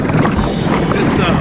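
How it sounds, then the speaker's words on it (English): Steady wind rushes across the microphone during a group bicycle ride, a close, continuous buffeting roar for the whole brief moment. "The wind was out here in most directions anyway."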